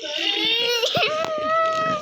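Wailing baby cry from a video game, sustained and fairly loud with wavering pitch and sobbing breaks, continuing steadily for a couple of seconds.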